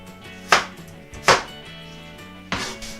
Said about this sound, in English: Then we just chop them into nice chunks.